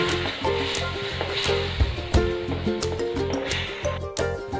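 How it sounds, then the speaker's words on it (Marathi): Milk being stirred into roasted semolina in a pan for a banana sheera, giving a steady sizzle with repeated scraping and stirring strokes and occasional clinks, close and moderately loud over background music. "आता यामध्ये आपण दूध टाकून मिक्स करून घेऊ"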